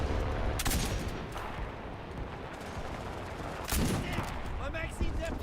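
Video game gunfire in rapid bursts and volleys, loud and close, with a couple of heavier blasts, while a voice talks over the shooting.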